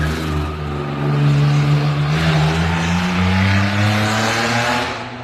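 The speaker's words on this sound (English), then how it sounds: "That car just flew by." A car flies past outside, its engine note swelling loud and close and then shifting pitch as it passes before fading away, with no voices over it.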